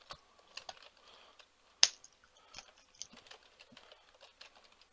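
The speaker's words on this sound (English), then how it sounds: "typing something in there real quick" Quick bursts of keystrokes tapped on a computer keyboard, close and fairly quiet, with irregular clicks and one sharper key strike, no talking over them.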